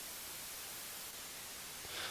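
White noise is summed with a copy of itself delayed by one sample, giving a quiet, steady hiss with dulled, muffled highs. It holds constant for about two seconds, with a slight swell at the end.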